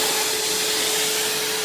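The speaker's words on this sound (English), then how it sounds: "I stripped down the whole of the surface of the coffee table, cleaned it up with a vacuum" A vacuum cleaner roars loudly and steadily over the stripped, sanded wooden surface of a coffee table, a continuous close whine with a high tonal hum and no breaks.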